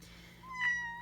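A single short cat meow rising out of a quiet room, faint and close, with no talking during it.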